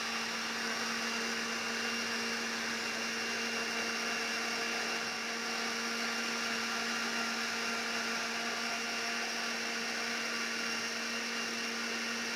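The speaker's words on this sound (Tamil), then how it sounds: "இப்போ நல்லா அரைச்சிக்கலாம்." A mixer grinder whirs steadily as it blends muskmelon juice with sugar and water, a loud, continuous motor drone with a steady hum running throughout, no voices.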